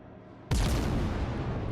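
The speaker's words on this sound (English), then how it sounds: "You just sit here going back and forth and shooting HE shells" A warship firing HE shells in the naval game World of Warships: Legends, heard as one sudden loud boom that holds as a dense rumbling roar for over a second.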